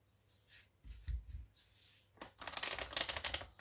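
Tarot cards being shuffled and drawn for a nine-card spread: soft low card taps and slides at first, then a louder, dense riffling flutter of cards near the end, close and without talk.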